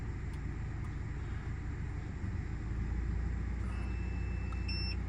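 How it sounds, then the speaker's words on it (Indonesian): A car engine idles in a campervan as a low, steady hum that swells slightly partway through, with faint electronic beeps near the end. "Nah ini kan kondisi mesin mobil hidup ya."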